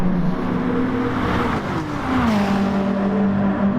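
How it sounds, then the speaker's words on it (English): Race car in GT Sport braking hard and downshifting, a loud close engine note dropping through the gears with pitch falling and rising again, continuous throughout. "Heavy braking down through the gears"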